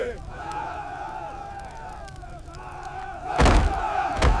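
A crowd of people shouting and rushing toward a door, a continuous murmur of voices building to a loud burst of impact and clamor near the end.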